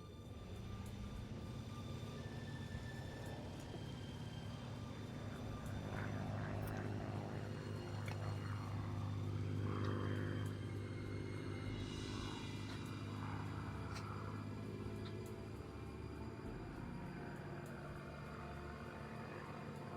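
Steady propeller aircraft engine drone from a video game, a loud continuous low rumble with a brief swell in the middle and no talking.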